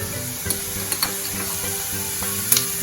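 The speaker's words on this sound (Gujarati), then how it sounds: "આપણું તેલ જે છે તે ગરમ થઈ ગયું છે તો 1 ટેબલ સ્પૂન જીરું એડ" A tablespoon of cumin seeds sizzles in hot oil with a steady close crackle, broken by a few sharp clicks of a spoon against the pan.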